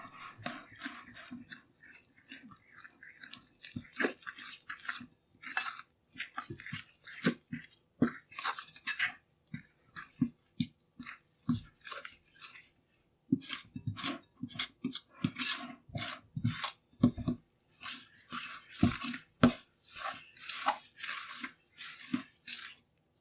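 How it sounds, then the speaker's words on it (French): A fork stirring pizza dough of flour and room-temperature water in a bowl, giving irregular soft clicking and scraping taps in quick bursts with pauses, close and quiet. "Je mélange le tout avec une fourchette."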